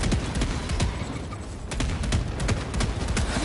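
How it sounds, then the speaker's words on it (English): Burst gunfire from the video game Helldivers 2: dense, loud volleys of sharp shots come in short clusters rather than full-auto streams, with booming impacts mixed in. "Prime really trying to conserve ammo here and not full autoing, just doing some burst fire"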